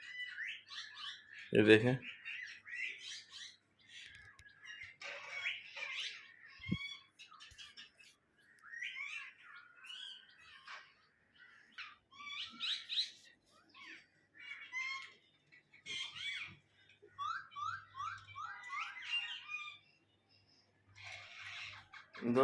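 A myna bird calls in repeated bursts of chirps, whistles and chatter, fairly close and irregular across the whole stretch, with a brief voice speaking once near the start.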